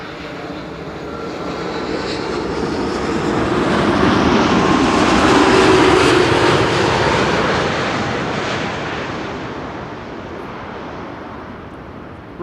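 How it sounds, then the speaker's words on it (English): Transavia Airbus A321neo landing on runway 36 right at Schiphol airport: a continuous broadband jet roar swells gradually, peaks near the middle as the aircraft passes closest, then slowly fades, with no voices. "A321 Retro Neo is turning in for 36 right."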